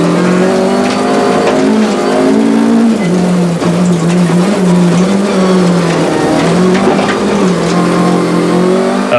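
An on-board view of a Volkswagen rally car at the 2001 Rally of South Africa, the engine droning loud and close and rising and falling through gear changes, with faint tyre and gravel noise underneath.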